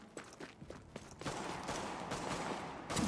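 Gunfire in The Division video game: scattered sharp shots at first, then a denser burst of sustained firing with a final loud crack, moderately distant and alone.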